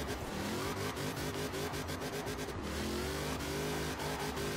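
A 1300-horsepower 1996 Impala SS in Forza Horizon 4, a maxed-out build, revs hard toward redline while struggling for grip, its engine roaring loud and sustained without a break.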